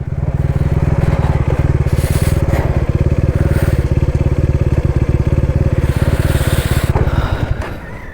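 A motorcycle engine idles steadily and loudly up close, its even pulsing running unbroken before easing off at the very end.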